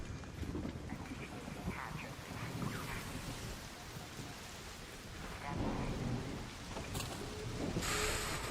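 Storm in ARC Raiders: steady rain hisses on surfaces while deep thunder rumbles and rolls in waves, swelling louder toward the end, with a brief sharp crackle near the close and no voices.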